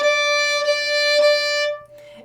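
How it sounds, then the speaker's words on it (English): A single sustained violin note played with the third finger on the A string, bowed steadily for nearly two seconds with a clear, bright tone and harmonics before it stops, close and alone with no talk. "You're going to place your third finger on the A string, and that should sound like this."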